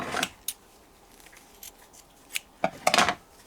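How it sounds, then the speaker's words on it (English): Scissors snip through strips of fleece for a soft rug, giving a few quiet, crisp cuts spread out with short gaps between them. "give it a snip to make a little hole"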